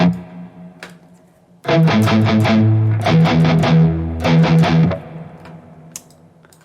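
Overdriven electric guitar through a Nux MG30 Soldano amp model with the master turned up, heavy chugging chords and riffs in loud bursts with brief pauses, a slightly flubby low end.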